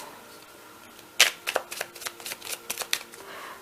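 A deck of tarot cards being shuffled close by, a quick run of crisp riffling flutters and snaps after a quiet start.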